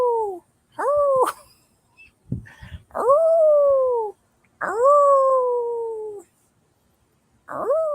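A person howls like a wolf on a Hunter Moon night, imitating the animal with several long, loud rising-and-falling wails separated by short gaps and a few brief exclamations, close to the microphone.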